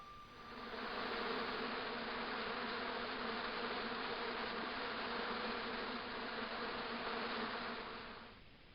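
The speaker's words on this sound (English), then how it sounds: "As I walked towards the bush, it started buzzing angrily." Angry insect-like buzzing from a bush in the Broken Sword 2 remastered PC game, a loud steady drone holding for several seconds with no talk.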